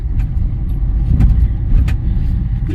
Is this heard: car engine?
yes